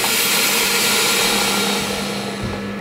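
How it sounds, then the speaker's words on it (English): An Avid Armor vacuum chamber sealer runs with a loud, steady motorized hum and broadband whoosh, holding constant and easing slightly toward the end, with no voices. "we will throw these in the Avid Armor vacuum chamber sealer"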